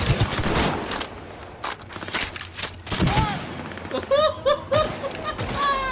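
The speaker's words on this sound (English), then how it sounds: "bullets are going to start automatically homing in on nearby enemies, and firing this thing is satisfying as fuck" A smart gun in a video game fires homing bullets in rapid, dense bursts of close gunfire, broken by short pauses and chirping whizzes as rounds curve toward targets.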